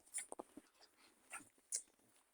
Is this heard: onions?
no